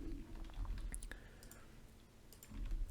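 Keys clicking on a computer keyboard while typing a short command in a Google Colab notebook, quick irregular taps close up under a low background hum, with no speech.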